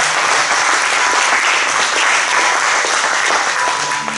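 A church congregation applauds to acclaim Jesus during a French-language service, a loud, dense wash of clapping that holds steady throughout and nearly fills the whole span.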